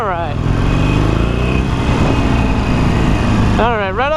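A Harley-Davidson Iron 883 built as a cafe racer runs with a loud, close, steady engine drone throughout, holding a constant pitch. Faint speech-like tones rise and fall over it near the start and end.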